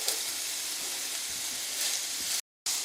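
Carrots dropped into a pan of chicken pieces frying for white sauce pasta, a steady close sizzle and hiss that cuts out briefly near the end.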